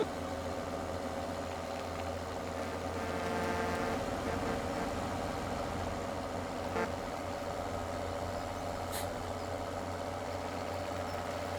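A tractor engine idles in Farming Simulator 17 with a steady low rumble and hum, and a few faint clicks and knocks pass over the drone.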